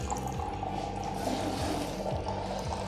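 Water from a Keva water ionizer pours into a glass, a steady close trickle and gurgle lasting the whole moment without any speech.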